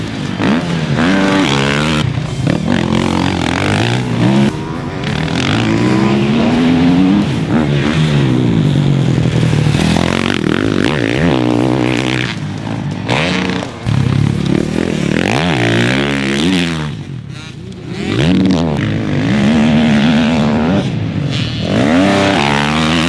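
A 2021 Husqvarna FC450 motocross dirt bike rides a track, its loud engine revving and rising and falling continuously through gear changes and throttle blips, close and dominant with no talk.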